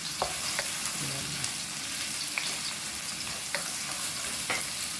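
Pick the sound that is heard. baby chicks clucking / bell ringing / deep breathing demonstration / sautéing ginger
sautéing ginger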